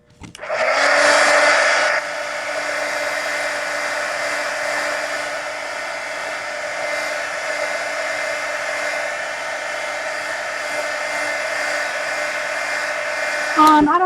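A hair dryer blows steadily on a mixed media napkin journal page, loud and close, with a louder burst at switch-on that settles into a constant whirring hum for about twelve seconds.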